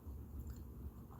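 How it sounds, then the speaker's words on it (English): Someone chewing grapes, soft wet munching and squishing close to the microphone, a few quiet bites in a short stretch with no talking. "I'm munching on grapes"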